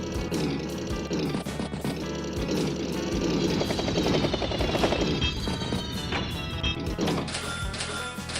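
A battlecopter helicopter from the video game Advance Wars by Web, a rapid rotor chop with rattling gunfire-like bursts, loud and sustained over several seconds amid busy game music.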